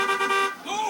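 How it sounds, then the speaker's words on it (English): A car horn honks in the crowded streets of Mombasa in Halo 3 ODST, a steady harmonic blare lasting under a second and sliding slightly in pitch near the end, with voices overlapping it. "Stop honking"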